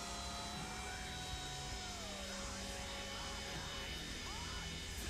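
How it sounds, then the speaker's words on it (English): Steady roar of Boeing 727 jet engines on the taxiway in Microsoft Flight Simulator 2024, a dense continuous rumble with a hissing upper band and slowly shifting whine tones, loud throughout with no gaps. "Now they get some jet blast."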